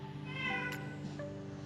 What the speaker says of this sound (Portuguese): meu gato Chimbinha chegou ali na calçada, tá ali gritando pra mim colocar ele pra dentro